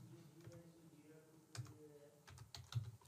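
Keys clatter on a computer keyboard as a name is typed into an Airtable automation setup, with bursts of quick taps, a pause, then another flurry of close, crisp clicks.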